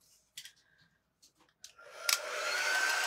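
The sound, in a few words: hair dryer drying glue on a planter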